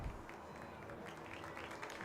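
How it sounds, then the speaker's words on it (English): A crowd claps for players at a women's ultimate frisbee league game between the Arizona Sidewinders and Colorado Alpenglow, a faint, distant smattering of applause with scattered crowd noise throughout. "The crowd clapping for them."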